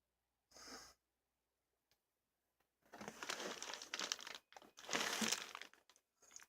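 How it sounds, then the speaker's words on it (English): Plastic wrapper being crinkled and pulled off an HDMI cable, one short rustle followed by a pause, then several close bursts of crackling and crumpling, quiet and with no talk. "Here is the HDMI cable and wrapper. Unwrap."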